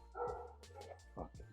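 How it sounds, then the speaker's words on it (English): A pet dog barks a few times close by, short sharp yaps breaking out over a brief stretch with a voice mixed in around them. "Fucking dog, man."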